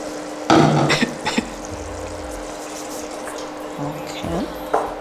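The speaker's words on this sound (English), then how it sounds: "I'll add some water." Water poured from a container into a tomato stew on a Zimbabwean home stove, a splashing pour followed by scattered clinks and knocks of the pot and utensils, close by.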